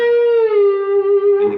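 A single sustained slide guitar note, a B flat, rings out alone and loud, gliding slightly in pitch before a soft scrape at the end.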